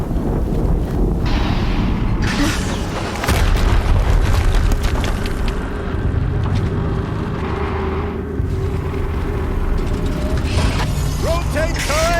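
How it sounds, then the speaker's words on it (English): Explosions rumble in the action video game Horizon Zero Dawn: a loud, continuous wash of deep booms and mechanical clatter fills the whole stretch, with sharper bursts rising over the din. "Another explosion."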